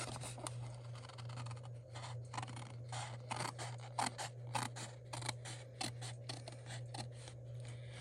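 Scissors snip repeatedly through paper for a handmade envelope, crisp close cuts in an irregular run of short bursts over a steady low hum.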